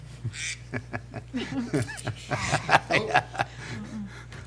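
Indoors at a city budget and finance committee meeting, a duck quacks in a quick, bouncy series of calls mixed with soft chuckles and laughter.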